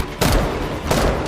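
Gunfire rings out in a film battle between soldiers and deadly robots: two loud, sharp bursts of shots, each trailing off into a heavy rumble, close and dominant.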